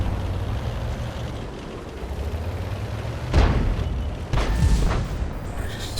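Artillery fire in World of Tanks on the Himmelsdorf map: a steady rumble of battle noise with two heavy booming shots landing about a second apart, loud and close, with no voices over them.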